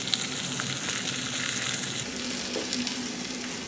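The fat cap of a rib roast sears on a hot surface, giving a loud, close, continuous sizzle and spitting crackle that runs throughout without any talk.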